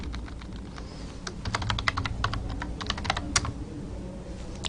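Rapid, irregular clicks of a computer keyboard as C++ code is typed, close and crisp with bursts of keystrokes and brief pauses, no voice present.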